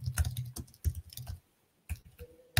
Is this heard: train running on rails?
no